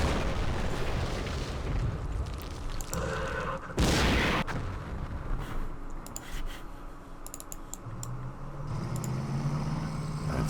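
Tanks fire in the Campaign Series Middle East wargame: one sharp, loud boom lands midway among quiet mouse clicks and interface noises, followed by lighter clicking and a rising tone.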